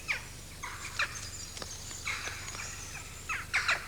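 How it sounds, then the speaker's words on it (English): Jackdaws calling in short, sharp squeaky bursts, several spaced calls over a few seconds at moderate distance, with no other sound competing. "Jackdaws, thieves, pirates of the bird world."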